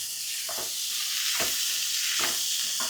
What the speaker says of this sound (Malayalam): ഇതിനകത്തോട്ട് നമ്മുടെ തക്കാളി അങ്ങോട്ട് ചേർക്കുക